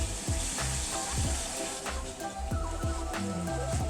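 Thick pork chops fry golden brown in a pan, giving a continuous close sizzle with regular crackles and soft thumps, with no speech.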